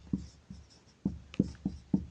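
Chalk or marker taps and short strokes on a classroom board as a math solution is written, six or so distinct knocks spaced irregularly, close by and moderately loud, with no speech.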